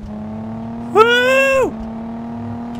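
Virtual car engine from Car Mechanic Simulator 2014 on a test drive: a steady low idle broken by one short, sharp rev that climbs and drops back within about a second, fairly loud and close.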